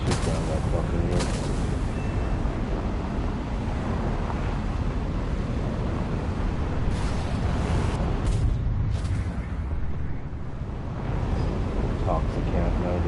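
Rumbling gunfire and explosions from the War Thunder video game form a dense, constant roar of battle noise throughout, with a few sharper bursts standing out.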